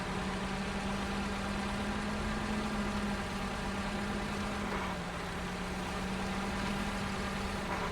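A truck engine drones steadily as it reverses in the Snowrunner video game, a constant low hum with a slight dip in pitch midway, heard alone without talk.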